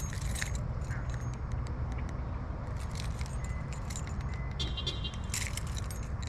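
A bunch of keys with a car key fob jangles in small metallic shakes over a steady low rumble of a car or road noise, close but not loud.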